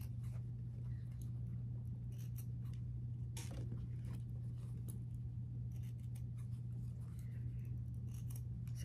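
Scissors snip repeatedly through fabric pieces, quilting offcuts trimmed from a Churn Dash quilt block, in a steady series of close, crisp cuts over a constant low hum, with no talking.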